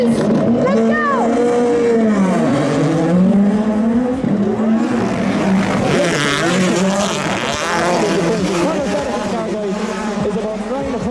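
A World Rally car on skinny tires and drift cars at a Red Bull drifting event at Spike Island, Ireland, in 2025: loud, sustained engine roar with rising and falling revs and tire squeal, close by, with someone talking excitedly over it throughout.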